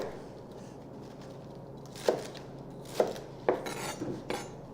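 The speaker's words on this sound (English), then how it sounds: "simply chopping through in the size that she wants in her salad dish" Knife chopping through dark leafy greens on a cutting board, four distinct thuds spaced about a second apart, with the final strokes quicker, all close over faint room noise and no speech.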